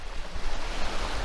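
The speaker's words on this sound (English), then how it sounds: "There's a few waves lapping into the shore." Small waves lap against the rocky shore of Georgian Bay under a grey sky, a steady close wash of water with wind rumbling across the microphone.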